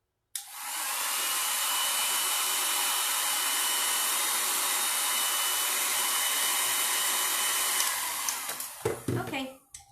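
A hair dryer blows steadily and loudly on a wet stapler for about eight seconds, then cuts off, followed by a few brief handling clatters.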